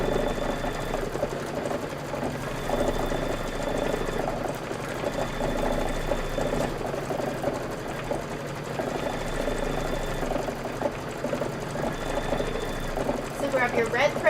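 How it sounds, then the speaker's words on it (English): A Kimberbell embroidery machine runs through a long stitch-out of a design, humming and tapping in a steady rapid rhythm from nearby, with someone talking over the machine noise throughout. "And this is going to be 4 minutes of stitching. Just let it go."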